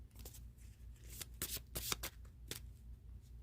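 Tarot cards are shuffled and handled close up during a reading, making soft riffling and flicking bursts with a sharp slap or two, quiet and irregular.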